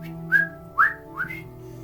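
A person imitates a whistle echoing through a cave, giving three short rising whistled chirps in a row, close and clear, over a faint steady hum.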